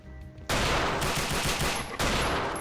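Rapid gunfire from a weapon in the Brutal Wolfenstein video game, a loud sustained burst that cuts in abruptly, pauses briefly, then resumes, with no voices.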